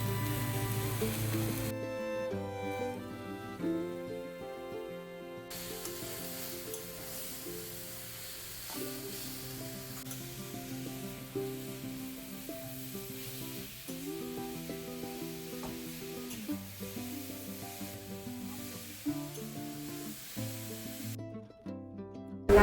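Grated coconut and jaggery frying together in a pan for Bengali bhapa pitha, giving a steady, close sizzle that runs unbroken with faint scraping as the mixture is moved.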